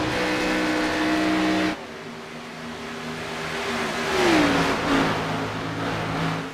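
Race cars in the iRacing video game accelerate off an oval corner at Kentucky, their engines holding a steady high drone that drops after a shift, then swells as another car sweeps past with a falling pitch.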